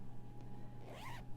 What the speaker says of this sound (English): It's an invisible zipper